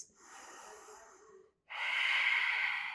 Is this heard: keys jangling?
no